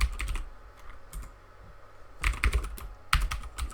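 Bursts of typing on a computer keyboard, clusters of quick close key clicks separated by a quieter pause, with no voices.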